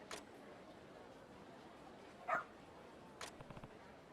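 A dog in the Like a Dragon: Ishin! video game gives a short yip and a few faint barks, quiet and brief over a low background hum.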